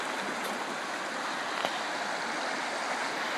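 River water rushes steadily past a gold sluice set in a good flow point, a constant close broadband wash with no breaks and no voices.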